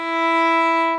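One bowed viola note, E stopped with the first finger on the D string, held evenly for about a second at close range before easing away.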